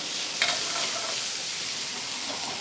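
Chaufa ingredients stir-fry in a pan of very hot oil, giving a continuous bright sizzle and hiss with a brief clatter of stirring early on, close and loud.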